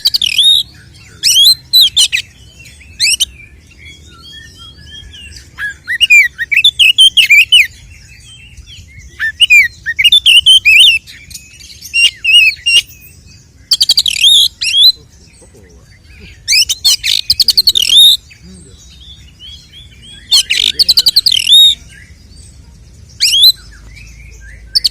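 Oriental magpie-robin (kacer) singing in loud, repeated bursts of bright whistled phrases and harsh chattering calls, separated by short pauses over a low steady background hum.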